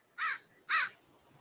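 Two harsh caws from a blackbird ring out about half a second apart, faint and somewhat distant against quiet surroundings, with no voices audible.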